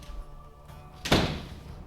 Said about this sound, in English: I'm gonna shut this door